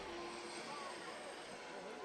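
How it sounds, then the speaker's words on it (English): Steady rotor and engine drone of a Coast Guard helicopter passing over a ballpark, continuous and fairly even, heard at a distance under crowd ambience. "the Coast Guard helicopter makes another pass right over the ballpark"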